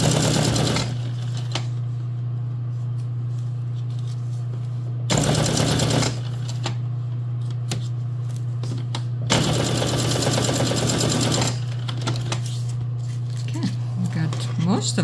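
A well-used sewing machine with replaced teeth, struggling to feed, stitches a foam cover for a junk journal. Steady machine hum runs throughout, with two louder, rougher bursts of stitching. Some talk is heard.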